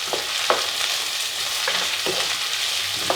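Onions and Brussels sprouts frying in a skillet make a steady, dense sizzle throughout, broken by a few soft clicks and scrapes of stirring.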